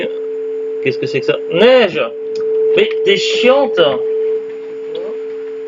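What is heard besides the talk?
landline telephone tone after the phone was switched on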